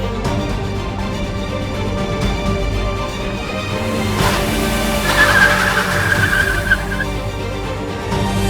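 A car speeds past and its tires squeal in a long, high skid midway through, loud over a steady engine roar.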